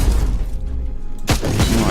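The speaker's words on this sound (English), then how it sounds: "That was due to the explosion." Explosion in the action RPG Warhammer 40,000: Inquisitor, with a sudden loud booming blast and rumbling debris cutting in after a stretch of quieter game ambience and music.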